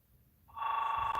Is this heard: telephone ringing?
yes